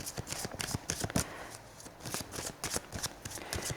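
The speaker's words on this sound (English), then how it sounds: "I'm going to pull some Romance Angel cards" Romance Angel oracle cards are shuffled and pulled, giving a series of crisp, rapid riffling flicks and soft slaps close by, bursts repeating in an uneven rhythm with quiet gaps between.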